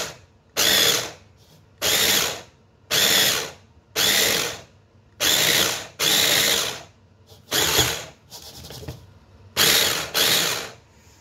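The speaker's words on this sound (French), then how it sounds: "Je vais commencer à mixer le poisson." A food processor chopping fish for a terrine in short pulses: around nine loud, close whirring bursts of roughly half a second each, spaced by brief pauses in a steady on-off rhythm, with no voices.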